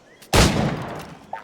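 A single loud gunshot cracks out in the pirate video game Assassin's Creed IV: Black Flag, close and sharp, followed by a trailing rumble that fades over about a second, with a faint short sound at the end.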